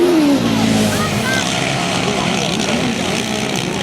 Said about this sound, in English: Squeezing the throttle real hard as he powers out of the corner